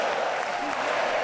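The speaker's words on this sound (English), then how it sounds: "with the ball out to play, the crowd able to make noise" Crowd noise at a Paralympic blind football semi-final between France and Colombia in Paris, a steady broad wash of cheering and applause filling the stadium without pause, with no clear single voice standing out.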